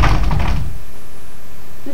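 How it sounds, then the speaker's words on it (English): A futuristic 1980s-style door makes a short, heavy rumbling knock that fades out, followed by near silence. "What about this door?"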